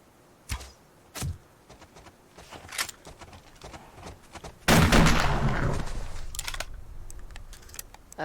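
Gunshots in the survival game Subsistence: a few sharp, separate cracks early on, then a louder blast with a long decaying rumble and tail.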